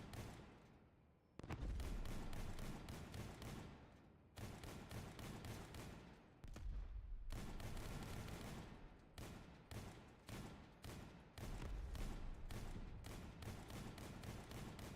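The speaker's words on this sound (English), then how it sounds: "Let me see if my shotguns actually hit my own build." Rapid bursts of in-game shotgun fire aimed at the player's own crafted build, loud and dense, with short pauses between volleys and nobody talking.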